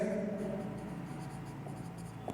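Handwriting by pen, a steady near scratching with short strokes and brief lifts, running continuously over a low background hum.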